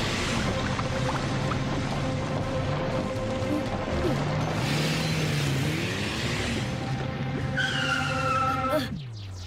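Monster truck tires spin and churn in a pit of liquid silver, a loud continuous grinding, sloshing roar with skidding squeals that shifts in pitch, then a rising whine near the end before it cuts down.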